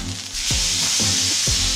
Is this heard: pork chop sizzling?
yes